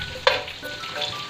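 Ginger and garlic sauté in a hot frying pan, a steady close sizzle with a sharp clink of a utensil near the start and no talking.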